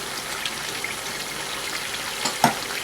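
Green chilies frying in a quail karahi over a high flame, giving a steady close sizzle with a small pop near the end.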